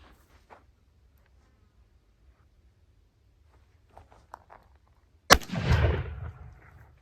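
A single loud gunshot firing a coated compressed powder cartridge, sharp and near, followed by a short rumbling echo, after a stretch of quiet with faint handling noises.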